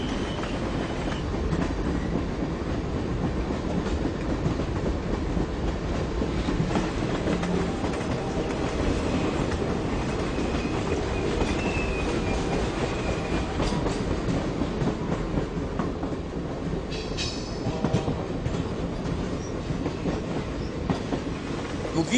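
Train locomotives haul loaded wagons past with a steady, dense rumble and clattering wheels that run without a break throughout. A faint squeal of wheels rises near the end.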